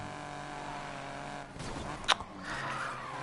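Dragster car in the video game Need for Speed Payback, its engine droning steadily, then a short swell and a sharp tire squeal as it slides into a drift.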